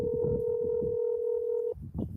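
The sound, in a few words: telephone dialing tones while calling Paula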